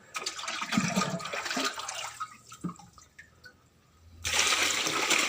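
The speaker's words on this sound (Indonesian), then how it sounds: "kita kasih air. Ini airnya menggunakan ember" Water pours from a bucket into a cattle mix of concentrate, pollard and cassava pulp in a cow shed, a splashing rush that breaks off for a moment and then returns loud and steady.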